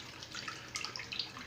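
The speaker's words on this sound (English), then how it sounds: "we'll go ahead and run some water on it" Tap water runs onto a shaving brush, a soft continuous splashing and trickling with some brighter spattering toward the end, fairly quiet and with no talking.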